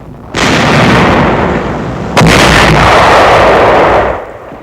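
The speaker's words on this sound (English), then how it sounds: "A tank of the 2nd Armored Division opens fire." A tank gun of the 2nd Armored Division fires in a loud, booming blast followed by a broad rumble, then a second heavy report that rolls on and fades.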